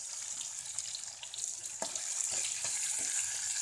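Masala-coated fish pieces fry in oil in a kadai, giving a steady close hiss and sizzle with scattered crackles and pops, with no talking.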